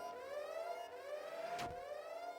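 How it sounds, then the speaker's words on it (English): A wailing alarm siren from the video game Everhood 2 sounds steadily with a wavering electronic tone, fairly faint, broken briefly by a quick sweeping whoosh. "The alarm is on again."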